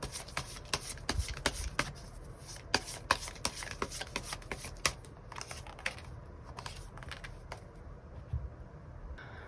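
Tarot cards being shuffled and drawn, a steady run of quick, crisp card flicks and slaps close by, busier at first and thinning out toward the end, with no talking.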